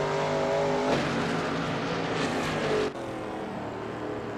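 A Shelby Mustang GT350R race car howls around Zandvoort in a racing game, its engine a loud, steady high-revving roar that shifts pitch through a gear change and keeps pulling hard.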